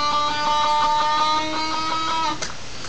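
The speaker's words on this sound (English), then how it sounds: "all you do is you go on to the 8th fret on the G string" Electric guitar note played on the 8th fret of the G string and bent upward, a sustained, bright, close tone with rich harmonics that rises in pitch and rings alone before a second pluck near the end.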